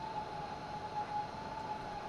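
A train in a simulator on the Pegnitztalbahn regional line near Nuremberg, easing to a stop at a station platform: a steady low rumble with a constant faint tonal whine, continuous and even, with no voices.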